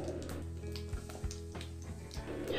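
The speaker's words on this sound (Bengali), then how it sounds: "গোটা জিরেগুলো যখন একটু শব্দ করে ফাটবে" Half a teaspoon of whole cumin seeds and a dried red chilli crackle in hot oil over medium flame, a steady low sizzle broken by a few sharp pops and crackles.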